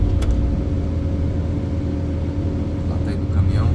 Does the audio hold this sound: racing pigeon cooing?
no